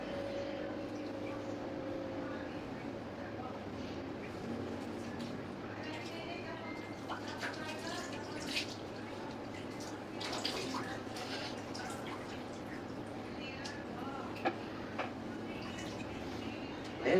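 Water pours from a dipper while a patient's hair is rinsed during a bed bath, a steady splashing trickle under continuous talking, with occasional drips and louder splashes.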